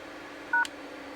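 A short burst of DTMF dialing tones from an Avaya 9611 IP phone, a single clear dual-tone beep standing out over a steady low background hum.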